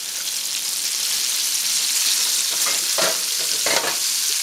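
Flipped chicken cutlets sizzle steadily in a hot pan, up close, with a few sharp crackles and spatters toward the end and no talking.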